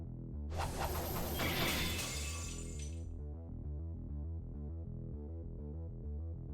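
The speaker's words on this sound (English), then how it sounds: "The swords I blocked them with are destroyed." Swords shattering in the visual novel Fate/Stay Night Realta Nua, a pair of blades breaking on a blocked cross strike: a bright, loud burst of breaking glassy metal fragments that rings out and fades over steady background music.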